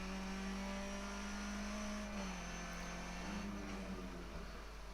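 Skip Barber race car in the iRacing sim at Donington Park, engine droning steadily with a sustained tone that dips and shifts slightly as the throttle comes back on, heard alone at a quiet, even level.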